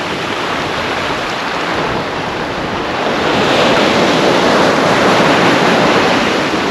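Big sea waves break and surge onto the shore at Withernsea on England's east coast, a loud, continuous roar of surf with wind buffeting the microphone, swelling louder midway through.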